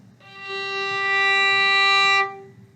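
A single bowed string note, G played on the D string, sounds alone as one steady sustained tone of about two seconds with a clean start and a quick release.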